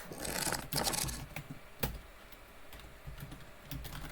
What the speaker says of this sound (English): Typing too fast.